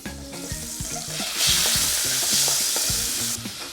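Pork frying in oil for a Thai prawn vermicelli dish, a steady loud sizzle with a hiss that swells midway, broken by repeated knocks and scrapes of a utensil stirring in the pan.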